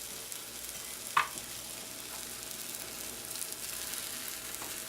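Eggplant fries in oil in a pan on medium heat, a steady close hiss and crackle with one sharp pop early on and faint utensil clinks, no voices.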